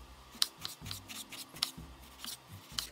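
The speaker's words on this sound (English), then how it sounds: "Now we have some fresh fine ripened tomatoes. We are just going to cut those into little chunks." A knife cuts fresh vine-ripened tomatoes into small chunks on a board, giving several crisp, separate chopping strikes at an uneven pace, close and moderately loud.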